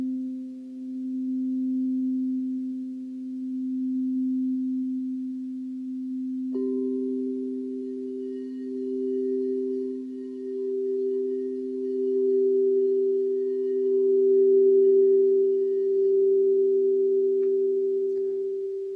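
A steady pure sine tone at the note C sounds alone, joined partway through by a second, higher steady tone, the two holding together smoothly to the end with gentle swells in loudness.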